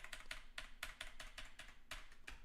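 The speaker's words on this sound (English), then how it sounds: "That's why you heard me typing." Bursts of keystrokes on a computer keyboard, quick clustered taps in an uneven rhythm, close and clear with no one talking.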